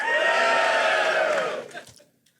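A live audience at a Chicago show roars and jeers in reaction to a mock draft pick, a loud, broad crowd shout that holds for about a second and a half and then quickly dies away.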